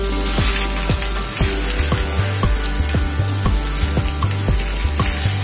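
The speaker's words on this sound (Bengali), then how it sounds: "এবার একে একে পাতায় মোড়া মাছগুলো আমি প্যানের মধ্যে দিয়ে দিচ্ছি।" Leaf-wrapped bhetki fish pieces sizzle steadily in hot mustard oil in a pan. A loud, continuous hiss carries regular ticking pops and utensil knocks, with no voices.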